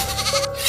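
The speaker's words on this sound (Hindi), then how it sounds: "वो बाहर गया और कुछ देर बाद बकरी की जोरदार चीख वहां सुनाई दी" A goat lets out one loud, strained bleat like a scream, brief and close, with no voices around it.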